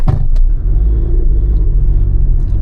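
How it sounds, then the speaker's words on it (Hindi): A manual car rolls backward on a steep hill after its brake is released, giving a steady, close low rumble from the vehicle with no voices. "अगर मैं ब्रेक रिलीज़ कर रहा हूँ तो मेरी गाड़ी पीछे जा रही है"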